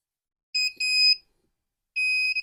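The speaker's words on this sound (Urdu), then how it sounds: "مصطفیٰ کی آنکھیں بند ہو رہی ہیں تو یہ الارم بج رہا ہے" Anti-sleep glasses sound their alarm as the wearer's eyes close: piercing electronic tones in two short bursts, then a longer sustained blare after a pause, loud and close with no voices.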